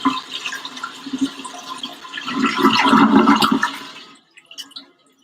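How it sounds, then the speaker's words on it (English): A toilet flushes in a full rushing gurgle of water that swells, peaks, then cuts off abruptly, followed by a few soft drips and trickles as the tank refills. "Toilet flushing."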